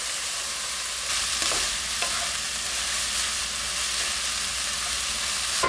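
Mushrooms and bean sprouts stir-fry in a hot pan at medium-high heat, a steady loud sizzle with occasional stirring scrapes, no talk.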